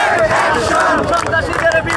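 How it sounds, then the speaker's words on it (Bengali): Student demonstrators at a protest rally chant slogans together, a loud, rough crowd roar of many voices rising and falling close by. "তারা যেমনটি বলছিলেন বিভিন্ন ধরনের স্লোগান দিচ্ছিলেন"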